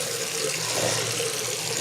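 Water runs steadily from a tap into a washroom sink during wudu face washing, a constant close gush with light splashing and no voices.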